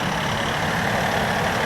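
A cabless platform tractor drives out, its steady engine rumble close and continuous with a hint of beeping, and no one speaks.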